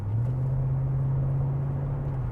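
A 1998 Mercedes C43 AMG V8 gives a deep, steady engine hum with a brief blip of throttle, close and fairly loud with no speech.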